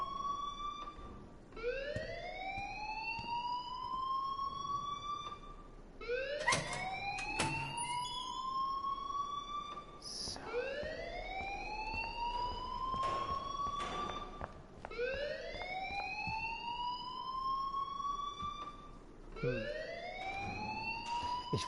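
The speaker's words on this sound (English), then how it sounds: "please turn off that alarm since that's your job" A school alarm in the video game Life is Strange wails repeatedly, rising siren-like sweeps returning every few seconds in a steady cycle, moderately loud and continuous with faint background clatter.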